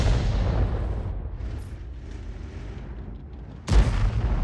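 An M12 155mm self-propelled howitzer in a video game fires, a long rumbling boom decaying slowly, followed by a second heavy blast near the end, both loud and close.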